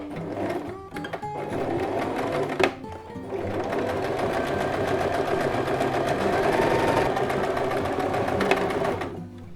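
A sewing machine runs steadily while stitching along a fabric edge for a reversible placemat, a close continuous mechanical whir with brief pauses and small clicks near the start.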